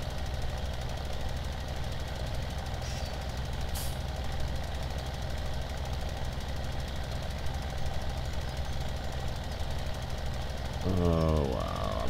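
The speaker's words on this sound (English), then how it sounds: "Why is this tractor having such a hard time?" Farming Simulator 17 tractor engine labouring hard with a steady, loud, knocking drone, continuous throughout and rising slightly near the end.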